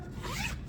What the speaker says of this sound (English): It's got a nice zipper.